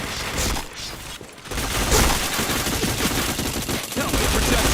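Dense bursts of rapid gunfire from a Point Blank shooting video game, loud and continuous with crackling shots and booms.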